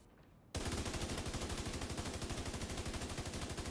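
Automatic gunfire in The Division 2 as a full magazine is emptied in PvP: after a brief quiet lead-in, a loud, rapid, evenly spaced burst of shots runs continuously to the end.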